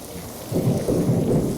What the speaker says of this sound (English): Oh, and it thunders, even though the sun's out.